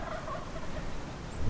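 A turkey gobbles beside a chicken coop, its rolling call rising over steady outdoor background noise.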